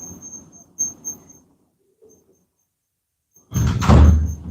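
A door is opened indoors, heard as a loud, close sliding thump near the end after a few faint knocks and a stretch of near silence.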